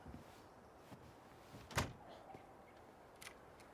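A single solid thunk of a door shutting in the video game Tell Me Why, short and moderately loud against a quiet background hum, with a fainter knock following a moment later.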